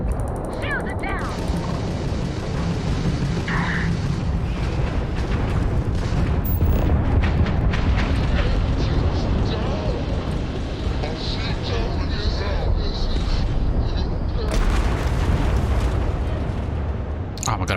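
Explosions and booming blasts in a space combat sequence of the video game Starfield, dense rumbling bursts filling the scene with a big sharp burst near the end, mixed with game effects.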